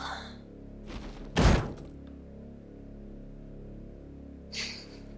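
A character in Digital Devil Saga 2 bangs on delicate glass. A few dull, hollow thuds sound, with the strongest blow early, then a quieter knock a few seconds later over a low, steady hum.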